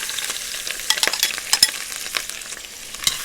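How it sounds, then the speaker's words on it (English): Shrimp shells sizzle and crackle in hot oil with a steady, close hiss broken by sharp pops and stirring scrapes, no voices. "I'm going to fry them in this oil"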